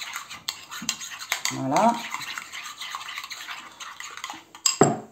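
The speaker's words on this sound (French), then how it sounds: "Donc, on mélange bien." Homemade hamburger ingredients are mixed by hand in a kitchen, giving scraping, clinking stirring sounds with a few sharper knocks. One short spoken word comes near the end.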